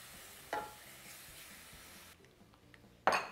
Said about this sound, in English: Give it a little stir. And now I'm going in with my heavy whipping cream.